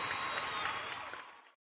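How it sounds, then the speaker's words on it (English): Audience applause at a trading seminar, a dense burst of clapping that holds steady and then fades out, fairly loud with no speech over it. "Fahmi, I give you a round of applause again."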